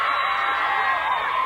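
A studio audience on a breakfast TV sci-fi special cheering and whooping together, a steady loud crowd roar lasting the whole moment.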